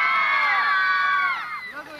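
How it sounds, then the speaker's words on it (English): A group of children at a farm camp scream together in a loud, high-pitched chorus that holds, then fades out and breaks into scattered voices. "So when I count to 3, I want everybody screaming."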